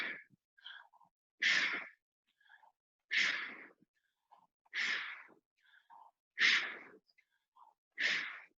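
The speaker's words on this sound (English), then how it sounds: "I want the breath to be in through the mouth, out through the nose." Breathing in through the mouth and out through the nose during a yoga session, in five strong, evenly spaced breaths, close and clear, with quieter short inhales between them.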